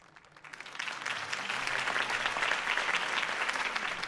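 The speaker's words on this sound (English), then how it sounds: "could have heard that applause" A large crowd applauds a campaign speech for Harvey Dent in the Batman Telltale video game. Dense, steady clapping builds over the first half second and then holds loud and continuous to the end, with no voices over it.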